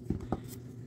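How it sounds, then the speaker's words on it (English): Pencil sketching a seaside cottage drawing, two short soft scratchy strokes on paper close by, quiet and brief. "while I'm sketching this"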